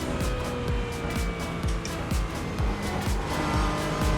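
A GT4 car in a simulated iRacing race at Charlotte, with steady engine drone, repeated rhythmic thumps and some tire noise in place of one distinct crash hit, all without talk.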